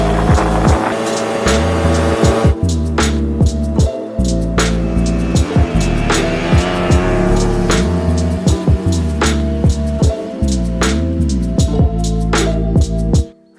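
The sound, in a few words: Piaggio Ape 50 three-wheeler driving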